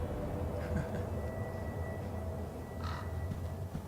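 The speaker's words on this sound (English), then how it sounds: "Evil Crow." Crow cawing in the horror video game Call of Cthulhu, a few faint harsh caws over a low, steady rumbling ambient drone, distant and sparse.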